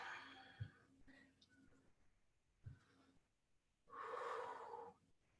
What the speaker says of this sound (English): Breathe here.